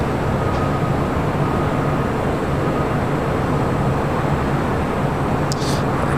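An airliner, a United departure, rolls for takeoff on runway 25 right at LAX, a steady low-pitched engine roar that holds broad and even throughout with no voices over it.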